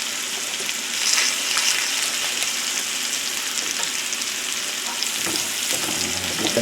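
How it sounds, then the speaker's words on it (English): Butter and olive oil sizzling in a hot cast iron skillet, a dense steady crackling hiss with faint spattering pops and a brief stirring scrape, close and continuous. "Okay, so I got my another cast iron skillet heating up."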